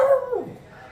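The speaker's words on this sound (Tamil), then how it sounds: "அதை பார்த்துட்டு இதுவும் வந்து குலைச்சிட்ருக்கான் இவனும்." A single short dog vocalization, a yelping bark that falls into a whimper and fades quickly, heard fairly close.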